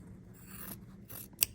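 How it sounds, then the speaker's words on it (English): Scissors snip through quilt fabric, a few quiet cuts with soft crunching closes and one sharp metallic click near the end, heard alone without talk. "I just take a pair of scissors"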